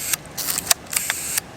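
Closing the back door of a Yashica Lynx 14 rangefinder film camera: several short, sharp mechanical clicks and snaps heard up close. The sounds are crisp and plastic-metal in character, with no talking.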